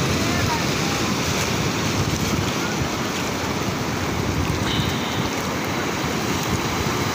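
Sea waves at Chandrabhaga beach in Puri at sunrise, a loud, constant roar of surf with heavy wind buffeting the microphone, steady throughout.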